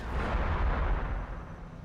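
Ork stick bombs detonate in the Warhammer 40,000: Battlesector video game, a heavy, booming rumble of overlapping blasts that rolls on loudly for nearly two seconds before easing off.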